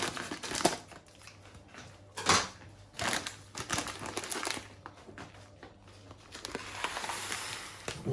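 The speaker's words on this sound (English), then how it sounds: "So we will add the lentil to a glass." Dry red lentils pour into a glass in scattered, rattling bursts, with crisp patter and crinkly clicks that start and stop at close range in a quiet kitchen.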